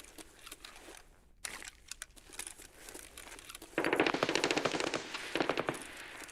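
Distant automatic gunfire rattles in the video game Escape from Tarkov, with scattered single shots at first, then a dense, sustained burst of rapid fire.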